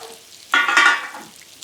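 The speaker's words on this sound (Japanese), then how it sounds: "ここに玉ねぎを入れます。" Onions are dropped into a hot frying pan for a milk and cheese soup, setting off a sudden loud sizzle that swells and then settles back to a quieter crackle, close up.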